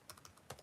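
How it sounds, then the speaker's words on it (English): A computer keyboard being typed on, a few quick soft key clicks in a short burst, close and quiet with no talking. "Now, I'm typing this into Google."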